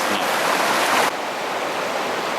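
Flowing stream water beside a backcountry campsite, a steady broadband rush that holds loud and close, then drops slightly softer about halfway through and runs on evenly without any voices.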